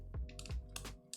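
Mechanical keyboard fitted with a mix of different switches being typed on: a few distinct clacky keystrokes, some with deeper thock, close and isolated, with no voices.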